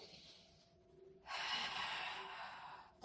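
Breathing during a Pilates abdominal exercise: a slow inhale, then a longer, louder breathy exhale, close up with no talk.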